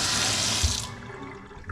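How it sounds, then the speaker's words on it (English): Tap water gushes steadily into an apartment sink, a loud broad hiss for the first second that then cuts off abruptly, leaving a faint room tone and a soft clunk near the end. "Here you do this and water comes out."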